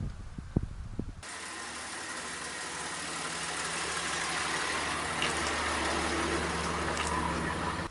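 A car rolls slowly down a flat concrete drive, a low continuous rumble of engine and tyres that holds steady and grows slightly louder over several seconds, after a few brief knocks at the start.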